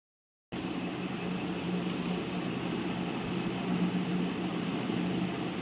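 A sewing machine stitches fabric with a steady, continuous mechanical hum and whir that starts abruptly and runs evenly for several seconds, with no talking.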